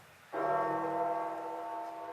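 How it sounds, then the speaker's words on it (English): A church bell tolls over St. Peter's Square in Vatican City, one sustained, ringing strike that swells suddenly and hangs in a long, slowly fading hum with rich overtones, heard from a distance without any voices. "you'll hear gongs of the bell"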